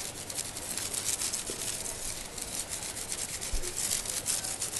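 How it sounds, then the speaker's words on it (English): Talc rubbed by hand through the holes of a stencil to mark an appliqué design, a continuous soft close scrubbing rasp with slight rhythmic pulses and no talking. "Oh, so you just rub it through the holes."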